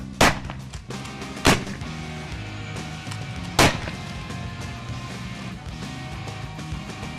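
Three sharp shotgun blasts fired on a film set, loud and widely spaced, with a jam between shots and a low rumbling background filling the gaps.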